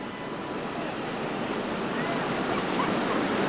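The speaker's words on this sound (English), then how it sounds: "Lots of power to pull us through these big Grand Canyon style rapids" Roaring white water rapids on the New River, a steady, loud rush of churning water heard up close from a raft, with no speech.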